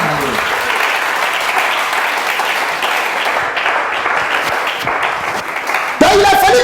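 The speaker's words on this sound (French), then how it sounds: "Est-ce qu'on peut acclamer le Seigneur?" A church congregation applauds and cheers for the Lord in a dense, sustained wash of clapping that runs loud and steady, with a sharp rise at the very end.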